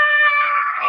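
A single sustained shouted scream, a bodybuilder's breather scream during a heavy set, loud and close, voiced by a man imitating it, lasting under a second.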